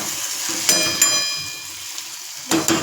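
Vegetable sabzi sizzling and frying in a pan, a steady close hiss broken by a few brief stirring clatters near the start and again toward the end.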